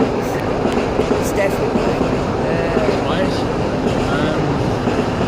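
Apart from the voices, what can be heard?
trains going past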